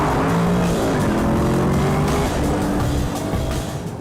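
A car with a 626-horsepower 5.5-litre supercharged V8 drives hard, its loud, steady engine roar filling the whole stretch close up, with rising and falling tones and no talking over it.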